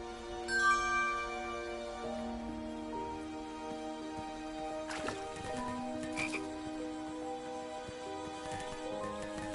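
Repeated croaking of a frog in the King's Quest video game, steady and fairly faint over a sustained tonal music bed, with no talking.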